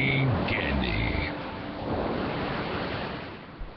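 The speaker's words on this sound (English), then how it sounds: "When you hear the sounds of the ocean" Ocean surf washes in a steady broadband roar, loud at first and then easing to a softer continuous rush, with a faint tonal snippet near the start and no talk.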